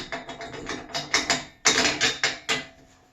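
A bolt is screwed onto a Gorilla wagon during assembly, making a close run of quick ratcheting clicks in short bursts, with a brief pause midway and no talking.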